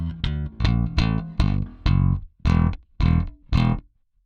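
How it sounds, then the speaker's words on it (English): Eight short, distorted bass guitar notes through a Lusithand 800BMF preamp in a steady rhythm, each with a percussive click and fret noise on the attack, played close and alone. "Here you can hear the fret noise, you can hear the click"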